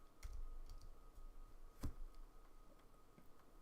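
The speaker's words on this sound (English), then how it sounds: "I hit some keyboard shortcut" A computer keyboard shortcut gets pressed during an animation session, heard as faint scattered key clicks with one sharper tap in the middle, quiet and close.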